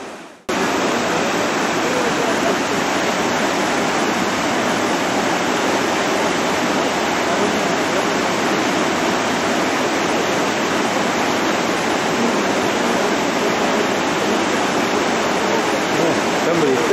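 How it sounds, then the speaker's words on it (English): A river rushes through a deep gorge with a loud, steady broadband roar of water, continuous and unchanging after an abrupt start. "This is a deep river gorge."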